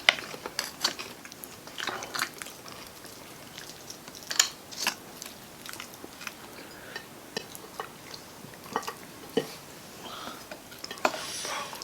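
Faint, close mouth sounds of eating at a mukbang of rib eye and spicy braised pork leg: scattered soft bites and wet chewing clicks at an irregular pace, with no talking.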